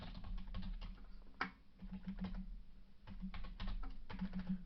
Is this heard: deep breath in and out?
no